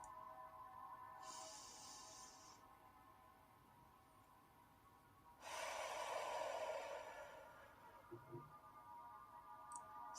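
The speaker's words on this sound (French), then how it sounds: "Bloquez votre respiration et expirez par la bouche." A calm breath out through the mouth during guided meditation, a soft airy exhale up close, preceded by a shorter breath sound and followed by faint clicks in quiet surroundings.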